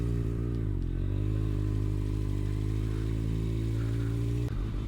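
Kawasaki ZX6R motorcycle cruising through Pattaya city at night, a steady low engine hum held close and loud, with a brief dip in revs early on and a shift near the end, no talking.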